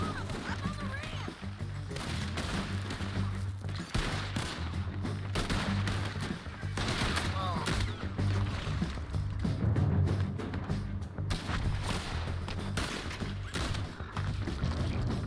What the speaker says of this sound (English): Two shots, two kills.